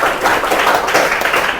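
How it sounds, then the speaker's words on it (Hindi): Students in a tenth-grade maths class clap loudly together to reward a good answer, a steady burst of many overlapping hand claps, near and continuous for the whole moment. "तो चलिए ताली बजाइए जोरदार ताली उनको"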